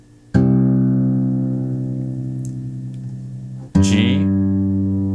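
Low C string of a guitar tuned to a C minor open tuning, plucked twice: a deep, ringing bass note that sustains and slowly fades, then a second pluck near the end, close and alone.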